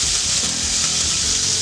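Chicken pieces for Greek gyros sear in a very hot pan, giving a loud, continuous bright sizzle that stays even throughout with no talking.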